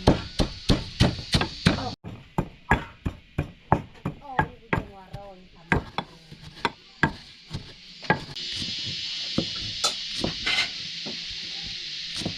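Large-grained salt and MSG pounded in a mortar outdoors in the forest, a steady run of sharp, close, evenly spaced thuds that continues over a constant hiss later on.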